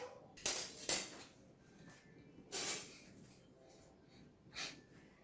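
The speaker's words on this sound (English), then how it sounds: "Sekarang saya akan potong tofu ni buat kepingan yang kecil" Tofu being cut into small pieces in a home kitchen, a few separate knife-on-board clacks spaced apart, faint, with quiet background noise.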